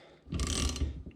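A ratchet clicking through a quick run of strokes while removing a ball joint on a side-by-side during a trailside repair, close and fairly loud, a burst of rapid clicks lasting under a second.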